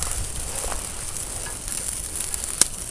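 Butter sizzles in a pan over an outdoor bushcraft cooking fire, a steady soft hiss with faint crackles and one sharp pop near the end.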